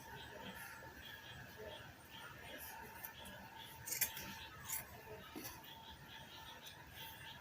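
Scissors snipping through fabric for a detachable ball gown, faint and close, a series of soft irregular cuts with no voices.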